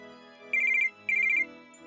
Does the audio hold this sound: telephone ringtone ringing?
yes